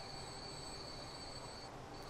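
A 73-year-old train running in the video game Transport Fever, a steady rolling rumble with high, sustained wheel squeal throughout, fairly quiet and unbroken.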